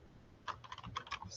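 Someone types an email address on a computer keyboard: a quick, uneven run of soft keystrokes heard close up in a quiet room.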